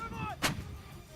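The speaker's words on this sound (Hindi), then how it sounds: "L119 हॉवित्जर से एक बार में 8 गोले तक दागे जा सकते हैं" An L119 howitzer fires once, a sharp booming blast with a rumbling tail, heard at a distance over low background noise and a faint tonal hum.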